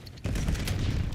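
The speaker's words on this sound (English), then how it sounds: "cluster grenade" A cluster grenade goes off in Black Ops 7 multiplayer, a dense burst of rapid overlapping blasts that crackles loudly for about a second after a brief quiet lead-in.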